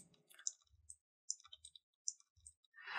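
Computer keyboard keys clicking while pressing Ctrl+Z to undo in Adobe Photoshop, a few sharp close taps spread across a quiet stretch with a soft low thump under some of them, with no talking.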